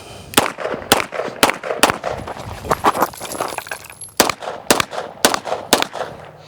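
A CZ Shadow 2 pistol fires sharp, loud shots during a carry optics movement drill, in quick pairs and short strings, with a brief pause while the shooter moves between positions and a burst of rapid shots afterward.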